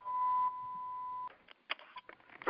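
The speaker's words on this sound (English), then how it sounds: "There's an alarm going out, and I just want to wait for it." An alarm beeps in a setting tied to a solid waste and recycling meeting: a steady high electronic tone holds for over a second, followed by shorter, irregular bleeps and clicks, fairly faint and alone with no talking.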